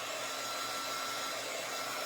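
A hair dryer blows on someone's hair with a steady, even whooshing roar, constant in level and close to the listener, running alone without any talking.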